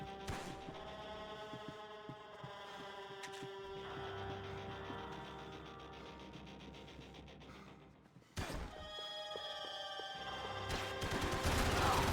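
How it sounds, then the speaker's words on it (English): Gunfire from the video game Max Payne 3, dense rattling volleys over tonal game music and background sound, with a sharp break and then louder shooting toward the end. "Some seriously good shooting there on my part."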